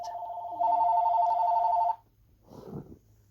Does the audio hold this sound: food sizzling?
no